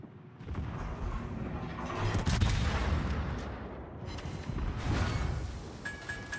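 Secondary guns of a warship firing in World of Warships, a dense run of rapid booming shots with heavy low rumble and whooshing shells, loud and continuous, swelling in bursts without any talk.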